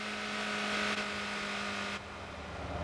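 Stock Mini car in a video game idling with a steady droning engine hum, loud and continuous, dipping slightly partway through, with no talking.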